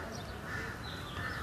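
A small bird calls faintly from a distance, a few thin repeated notes over a soft, steady background with no talking.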